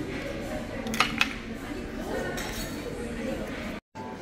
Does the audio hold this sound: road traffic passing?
no